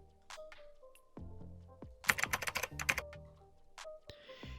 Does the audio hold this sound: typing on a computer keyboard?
yes